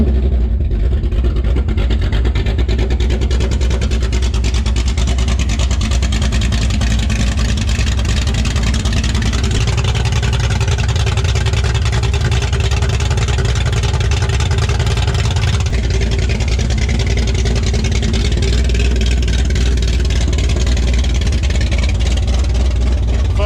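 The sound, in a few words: Ford 351 Cleveland V8 ute engine running straight pipe, no exhaust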